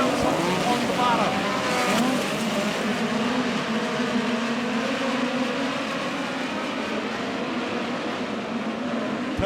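Midget race cars roaring around the dirt oval at Lake Ozark Speedway in a POWRi National Midget League race, a loud, dense engine drone sustained throughout with cars running side by side, an announcer talking over it.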